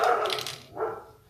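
A single dog barks once or twice indoors at moderate distance, a short sharp yelp followed by a softer second bark.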